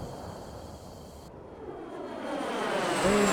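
An airplane in GTA 5 drones with an engine roar that swells louder and closer over a few seconds, its pitch sweeping upward as it approaches, alone without talk.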